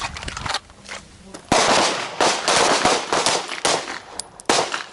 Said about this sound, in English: Single shot on the dot.